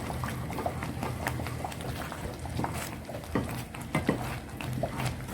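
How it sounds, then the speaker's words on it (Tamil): Thick dry fruits Karachi halwa made with brown sugar bubbles in a wide kadai, giving soft irregular plops and pops close by over a low simmering hiss, with no talk. "கெட்டியாக இந்த மாதிரி நல்லா பபிள்ஸாக மேலே வரும்."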